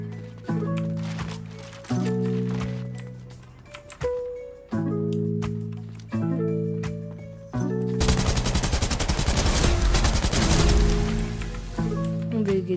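Rapid bursts of video game gunfire from a shooter with reloading and a bomb objective build into a dense, sustained volley over a steady tonal game soundtrack.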